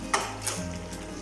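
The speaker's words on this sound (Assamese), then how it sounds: "মই একবাৰ লৰাই দিছোঁ।" Taro cooks in a pan and is stirred briefly, with a soft scrape and a clink of the utensil over a low, steady sizzle, close and short.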